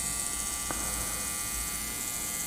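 Steady high-pitched whine and buzz of a rotary tool grinding down a trace on a computer circuit board, held constant throughout at a moderate level over low hum, with no talk.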